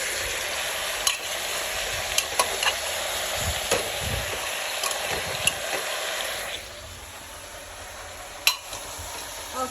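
Goat meat cooking in a pan sizzles steadily, with frying hiss, scattered crackles and a few stirring clacks against the pan, close up and fairly loud, easing slightly toward the end.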